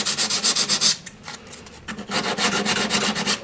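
Light hand sanding of painted MDF model railway platforms, rhythmic back-and-forth rasping strokes, close and fairly loud, with a short pause before the strokes resume.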